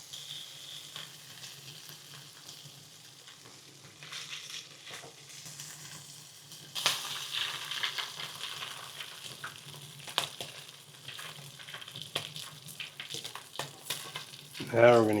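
Meatballs sizzle and fry in batches in a pan, a steady crackling hiss broken by scraping and stirring, and louder bursts as pieces are turned or moved.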